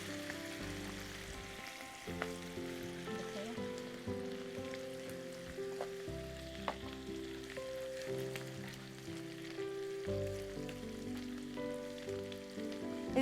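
Onions sizzle steadily in a pan as they fry to a light brown, a soft continuous crackle running underneath prominent background music.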